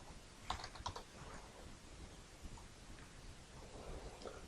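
Faint typing on a computer keyboard, a short cluster of quick key clicks early on and then a few sparse taps against a quiet background.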